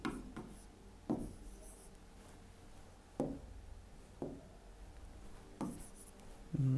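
Pen or marker writing out a math solution for a Class 10 trigonometry exercise: quiet scratchy strokes in short bursts, each starting with a sharp tap, repeating about every second over low background hiss.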